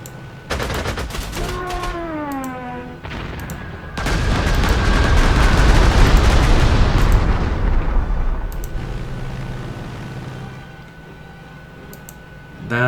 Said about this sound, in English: You can bomb this guy to oblivion.